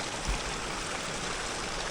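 Steady broadband rush of a mountain stream carrying orange-tinged mine runoff beside an alpine trail, continuous and fairly close with no voices.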